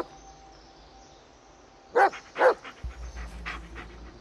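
A dog in the Blair Witch video game pants and huffs in two short bursts close by, followed by quieter breathy sounds over a low ambient background.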